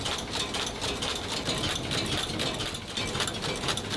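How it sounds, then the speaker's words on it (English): A bolt-making machine feeds and trims the ends of raw metal stock, making a continuous dense mechanical clatter and grinding with rapid metallic ticks throughout, loud and steady, with no voices. "It's fed into the machine, trimmed at the ends to ensure a snug, perfect fit for the process ahead."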